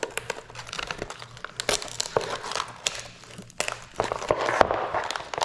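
Peel ply stripped from a frozen carbon fiber part for a car's rear spat, close dry crinkling and tearing crackles in irregular bursts with sharp snaps, no voices.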